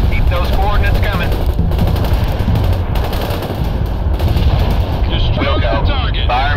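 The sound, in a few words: artillery and gunfire in the video game World in Conflict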